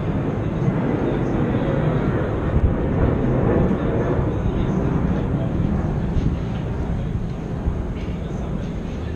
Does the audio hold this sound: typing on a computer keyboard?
no